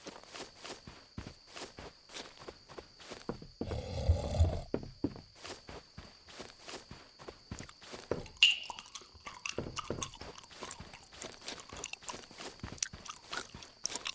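A monster chewing in a cheap horror video game: wet, crunchy biting and chewing close to the ear, repeated rhythmically throughout, with heavier crunching bursts midway.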